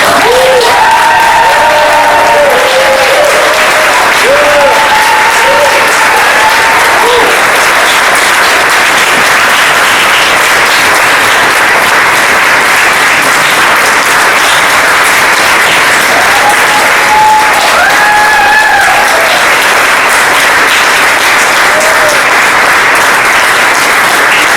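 An audience at a recital breaks into sustained applause, a dense and loud wash of clapping that carries on steadily with a few faint voices underneath.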